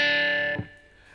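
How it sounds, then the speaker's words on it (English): A distorted electric guitar sounds a natural harmonic on the 4th string at the 5th fret, a bright glassy tone ringing alone for about half a second before being abruptly choked off with a short muted thump, leaving faint residual noise. "the harmonic that I use is on the 4th string,"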